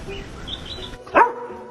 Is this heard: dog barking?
yes